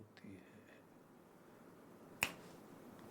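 A single sharp finger snap rings out once, close and crisp, in an otherwise quiet room with faint murmuring beforehand.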